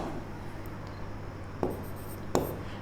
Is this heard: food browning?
no